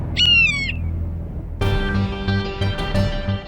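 A kite, a bird of prey, gives a shrill, wavering cry that rises and falls for about half a second in a Baalveer TV scene, followed by a burst of dramatic background music.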